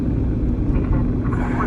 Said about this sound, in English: What's this plane's called? C-120?